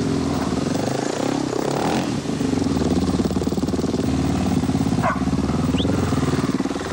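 A KTM-style rally motorcycle built for the Dakar rally roars along at close range. The engine drones continuously with a rising, buzzing note and a few shifts in pitch as it rides.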